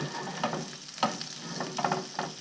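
Pecan bits sizzle in brown butter and olive oil left from cooking fish, a close, even frying hiss with a few soft crackles and stirring scrapes.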